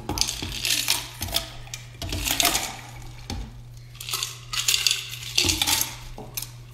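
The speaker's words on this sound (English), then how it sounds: "put in some ice" Ice cubes drop into a cocktail glass in several bright, clinking bursts, a few pieces at a time, close and fairly loud, with glassy rattles between pauses.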